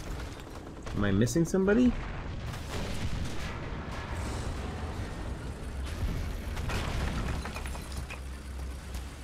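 Gunfire and booms from a War Thunder tank battle with an S.35, low rumbling bursts of shots heard under a voice speaking through much of it.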